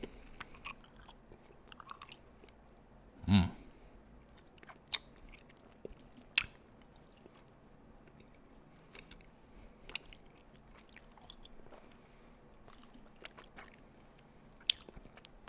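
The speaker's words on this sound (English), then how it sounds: "Do some gummy ASMR. I was going to hear me chewing." Gummy candy is chewed up close for ASMR, soft wet squishes and occasional louder bites spread sparsely over a quiet background.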